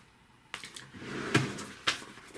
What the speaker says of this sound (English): Put it back in the drawer.